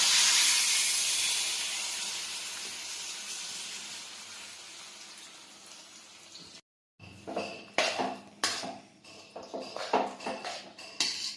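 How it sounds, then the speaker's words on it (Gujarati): Milk is poured into a hot pan while making khajur pak, setting off a loud steaming hiss that slowly fades, then a cut to clattering utensil scrapes and clinks against the pan. "હવે આપણે થોડું દૂધ ઉમેરીશું।"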